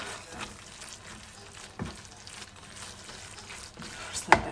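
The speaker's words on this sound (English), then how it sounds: "Mixing in the veggies." Meat and vegetables for a lasagna sizzle and get stirred in a pan. The frying hiss is moderate and continuous, with scattered scraping clatters and one sharp knock near the end.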